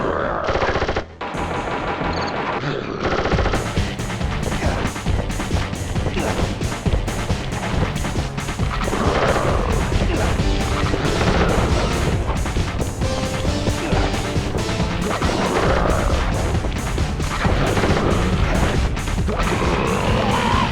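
Sustained automatic gunfire in the Sly Cooper video game, a dense, loud stream of rapid shots and crashing impacts running nearly unbroken for about twenty seconds.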